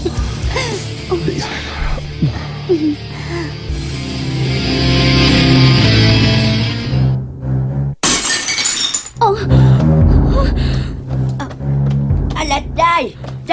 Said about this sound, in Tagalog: nabuak bang guna nimong baso?